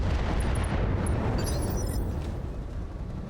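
Mech weapons firing in BattleTech with the RogueTech mod, a loud sustained roar of blasts and explosive bursts with a few brief high metallic pings, rumbling steadily throughout without talk.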